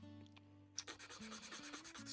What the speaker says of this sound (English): Let's cut out this extra bit and sand it a little